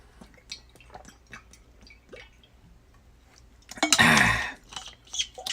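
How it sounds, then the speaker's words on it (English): Someone takes a drink of water, with small wet mouth clicks and sips building to one loud gulping swallow near the end, close and alone without talk. "Drink some water here."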